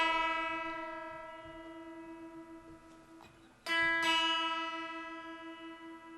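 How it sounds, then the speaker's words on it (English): Guitar tuning: the open high E string rings against the second string fretted at the fifth fret, two sustained matching tones that fade and are then plucked again, loud and close with no talking. "Now since that's an E note on the 2nd string, where we have our finger down, we're going to tune our high E,"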